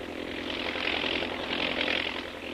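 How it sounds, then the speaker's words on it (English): A propeller army plane drones steadily overhead in a radio drama, a broad continuous engine roar swelling slightly louder around the middle and end, with no voices over it. "An army plane in advance of the mechanized column sights something and reports by radio to the column"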